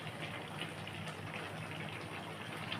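Ghee pours into a hot cooking pan while a vegetarian Bengali chapor ghonto is being made, giving a steady, close, continuous sizzling gush with no breaks and no talking.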